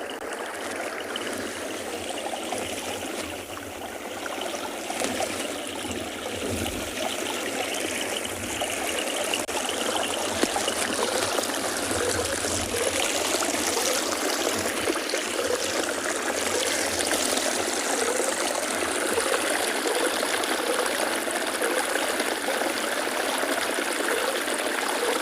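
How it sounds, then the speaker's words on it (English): Steady flowing water at a penguin beach, a continuous broadband rush and trickle of a stream running close by, with no talk. "So I'm going to try and get to where the main water is flowing so that we can finish off our show with those beautiful sounds."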